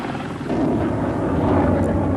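A military anti-submarine helicopter flies with a steady, loud, dense rotor and engine roar that swells slightly after the first half second and holds without a break.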